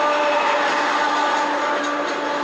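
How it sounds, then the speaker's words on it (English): A train rumbles past close by, a loud continuous roar with a steady metallic hum that fills the whole moment without any talking. "I got a train coming, so it's going to get a little loud for a minute."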